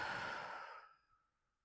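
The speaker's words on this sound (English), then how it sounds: "And all the air moves out of your body." A long, deep, breathy exhale during a belly breathing exercise, close and soft, fading away over about a second.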